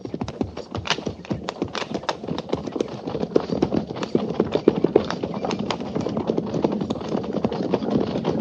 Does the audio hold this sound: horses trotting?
yes